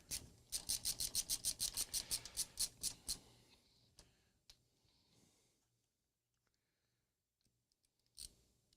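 Loose bits being scraped off a surface, a quick run of about a dozen rhythmic rasping strokes up close, then scattered faint clicks and one last scrape.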